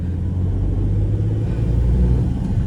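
A Maruti Suzuki Wagon R VXI petrol hatchback with a five-speed manual gearbox idles nearby, its engine a steady low rumble that holds even throughout, with no voices.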